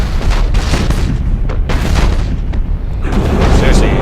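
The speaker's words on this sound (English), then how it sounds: "Fire all weapons!" Heavy cannon fire from spaceships in Battlefleet Gothic Armada, a rolling barrage of loud booming blasts and rumbling impacts that continues without a break, overlaid with dense battle noise.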